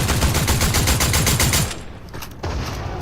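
Rapid bursts of automatic gunfire from a Fortnite match, dense and continuous for about a second and a half, then dropping away before a few more shots resume, loud and close with no talk.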